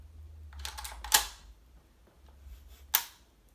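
Metal bolt of an Air Venturi M1 Carbine gas blowback airsoft rifle cycling, heard as two sharp metallic clacks about two seconds apart, each preceded by lighter mechanical clicks, close and with no voices.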